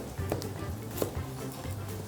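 A knife chops an onion into large chunks for braised beef short ribs, giving a few soft, sparse thuds against a board, faint and close, with no talking.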